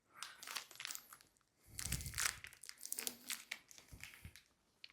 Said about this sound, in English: I'm going to take this little piece of tape off real quick